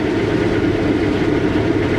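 A combine harvester cuts soybeans at six miles an hour under about 90% engine load, giving a steady, loud, dense machine roar with a continuous rumble and no break.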